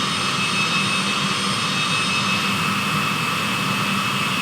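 Aircraft engines throttling back on descent toward the airfield, a loud, steady jet roar with a constant whine that fills the cabin without pause.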